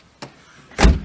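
An SUV door swung shut with a solid, close thud, preceded by a short click moments before.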